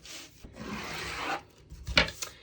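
Pen or marker scratching lines onto fabric while marking a doubled-over sweatshirt neck trim, a steady rasping stroke followed by a few short quick strokes, close and quiet with no talking.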